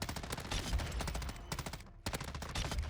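Loud, continuous automatic gunfire in Call of Duty: Modern Warfare 2, rapid shots rattling in long bursts with one brief gap before firing resumes.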